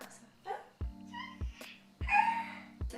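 A cat named Groot meows several times in short, close calls, with soft thumping knocks recurring at a steady rhythm between the meows, in a quiet indoor room.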